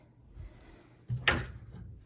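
An armoire's wooden doors are swung open and folded back, making a soft knock followed by a sharp click and brief rattle of hinges, close and fairly quiet in a room.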